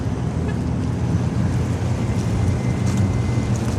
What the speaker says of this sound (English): Wind's starting to pick up.